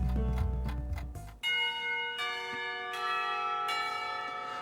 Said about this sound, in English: The bell to signal the beginning of lunch rings out.